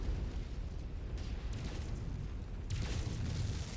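Target blowing up as it is destroyed in MechWarrior 5, a dense rumbling explosion with bursts of crackling debris that swell and roll on for several seconds, no voices.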